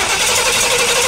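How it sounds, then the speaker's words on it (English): A car starter motor cranking the engine, energised through a jumper wire from underneath, whirs in a loud, steady, buzzing drone held close for a second without a break. "I've hooked up a jumper wire to this starter motor so that I can get it to crank from underneath here."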